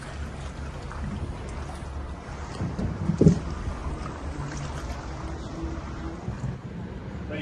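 A gondola gliding on calm water in Venice on a quiet Sunday morning, heard as a low, steady wash of water and faint wind with a brief knock partway through.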